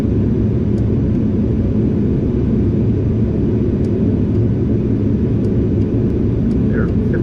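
Boeing 737 landing in a flight simulator after a flare with too much elevator and a climb back up, ending in a very firm touchdown: a loud, steady rumble of engine and airframe noise with no break, and no one speaking.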